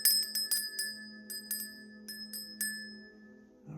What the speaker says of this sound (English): let's go ahead and ring this bell and get this going. I'm going to ring it quietly